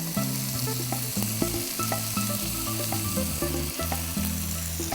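Large prawns fry in a pan with tomato for a Kerala-style prawn theeyal, a constant close sizzle broken by frequent scraping stirs and small clinks, with no one talking.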